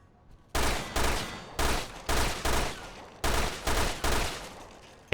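Loud, evenly spaced gunshots in Resident Evil Revelations 2, about eight sharp blasts fired one after another in a steady rhythm with brief gaps between.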